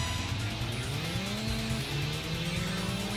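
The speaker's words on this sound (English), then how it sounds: "The Micro Lib, I don't think I've raced one of these. I like how all the engines have like unique sounds too" The Micro Lib car in the racing game Racing Lagoon accelerates, its engine note climbing steadily through a gear as a loud continuous drone, with tire and road noise layered underneath.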